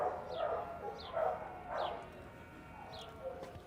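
A muzzled female dog at an animal shelter gives several short, high whimpering yips in a quick series, fairly close and moderately loud, with no talking.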